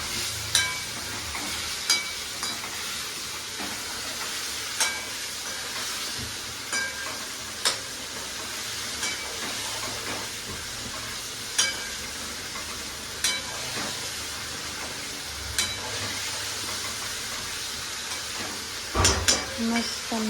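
Potatoes sizzle steadily in a hot pan, a constant bright frying hiss broken by periodic stirring clacks, with occasional voices in the kitchen.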